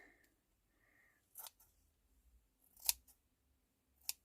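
Scissors snip a small piece off layered craft material, making three or four short, crisp cuts that are quiet and close against near silence.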